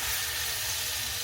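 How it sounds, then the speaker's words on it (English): Onion sizzling in a hot frying pan, a bright continuous frying hiss held steady and close throughout. "I'm going to throw some onion in here too"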